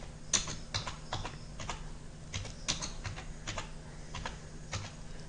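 Close, quick bursts of clicking keys on a computer keyboard, irregular clusters of taps with short pauses between, no talking.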